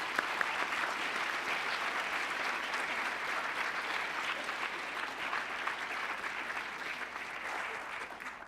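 A lecture audience gives sustained, steady applause welcoming speaker Liz Lev to the podium, a dense wash of clapping holding evenly for several seconds with no talk over it.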